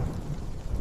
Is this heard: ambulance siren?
no